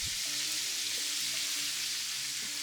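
Corn dropped into a hot pan with broth sizzles and fries steadily and close up, a dense crackling hiss lasting throughout with faint stirring clinks and no talk.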